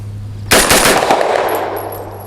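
A single sharp, loud gunshot from an Extar EP9 Gen 2 pistol firing Venom Turkish 9mm ammunition, close by, with a brief ringing outdoor echo that fades quickly.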